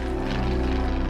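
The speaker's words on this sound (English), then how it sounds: "That was the same plane, and as they flew over me" A propeller plane drones loudly overhead, a steady throbbing engine and airscrew roar in open wilderness, with no voices.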